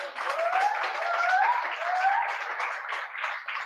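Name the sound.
audience applauding the pianist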